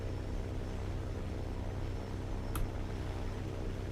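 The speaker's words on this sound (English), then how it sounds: "this plane is loud as shit" Loud airplane engine in a video game, a steady, dense droning roar filling the whole clip with no pauses and no voices over it.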